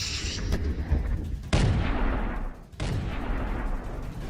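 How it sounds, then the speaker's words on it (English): A soldier's RPG goes off against an enemy target with sharp, loud booms, two sudden blasts each trailing off into a rumbling, noisy decay over steady background noise. "This soldier prepares to deliver the final blow with an RPG."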